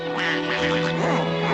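Cartoon ducks quack busily in a dense, overlapping chorus over a bouncy animated-film music bed, with continuous jaunty quacking throughout.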